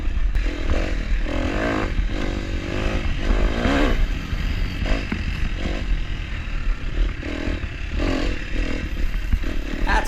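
Dirt bike engine revving and bogging through an enduro course in snow, loud and close with repeated throttle surges, clatter and scraping over rough ground.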